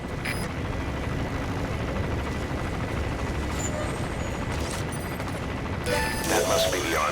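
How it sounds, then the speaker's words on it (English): An arms dealer's helicopter on patrol in Metal Gear Solid V: The Phantom Pain, a steady low rotor drone and rumble with sharp mechanical bursts and clatter near the end. "Looks like the arms dealer's chopper is gonna patrol for the security forces."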